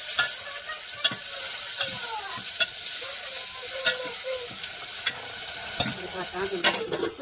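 Tomatoes fry in a hot pan with chillies, coriander, curry leaves and mustard seeds for a peanut curry, giving a continuous loud sizzle broken by scattered scraping stirs.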